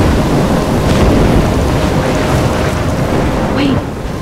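Roaring storm wind and surging waves in the Life Is Strange game, a dense, loud, continuous rush with low rumbling beneath, easing slightly near the end.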